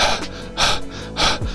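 A voice imitates someone gasping for air: three sharp, breathy inhalations spaced about half a second apart, close and fairly loud.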